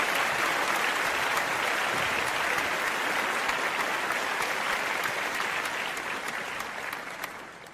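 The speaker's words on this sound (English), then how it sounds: "it deserves applause." Sustained studio audience applause on a daytime talk show, dense and loud throughout, easing slightly toward the end with no voices over it.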